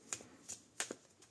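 A small tarot deck is shuffled up close with four quick, soft riffling flicks, evenly spaced and faint, with no voices.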